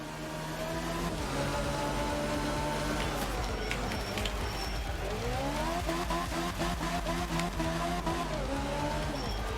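A Group B rally car in a racing video game skids under braking, its engine note rising and falling with tire scrub and sliding noise throughout, loud and continuous, while a voice talks over it.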